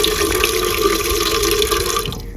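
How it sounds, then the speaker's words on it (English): Water gushes steadily from a small garden faucet into a container on a terrace garden, a loud continuous splashing stream that eases off at the very end. "we have a little faucet. So then we fill up"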